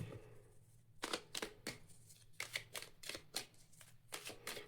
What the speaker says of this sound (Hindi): अगर आपको शफलिंग देखना पसंद नहीं है तो आप इस पार्ट को स्किप कर सकते हैं, बिकॉज यहाँ पर मैं शफल करूँगी एंड स्प्रेड